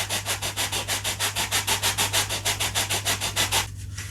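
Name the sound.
sanding a model glider part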